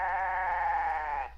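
A pet goat indoors in a living room gives one sustained, wavering bleat, close and clear, lasting over a second before cutting off, with no talk over it.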